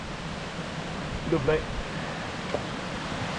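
A river flowing below a hillside campsite at Hafod Y Llan in Wales, heard as a steady broadband rush close by, with a brief spoken word over it midway.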